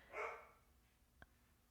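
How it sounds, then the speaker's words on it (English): Percy, a pet dog restless from being shut indoors, lets out one clear bark near the start, followed by a faint short yip a second later, with the room otherwise quiet. "Say hi to Percy, our dog, who's tired of being locked up and wanting to get out"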